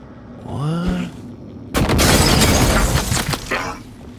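Glass shatters in the video game Prey, a sudden loud crash that bursts in after a brief electronic tone and then breaks up into scattered fragment impacts fading over a couple of seconds.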